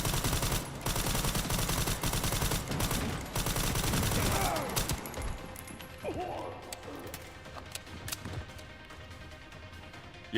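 Gunfire in the survival horror game Resident Evil Requiem: dense, rapid volleys of shots fill the first half, then give way to quieter scattered impacts and clatter.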